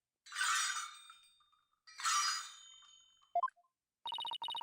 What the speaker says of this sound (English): Oh, I hear the sound of the High Priest's footsteps.